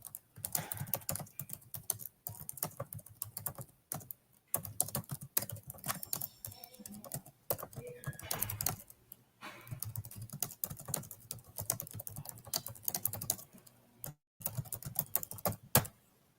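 Someone types on a computer keyboard in quick, uneven bursts of clicking keystrokes with short pauses between runs, close and fairly quiet, lasting around sixteen seconds with no talking.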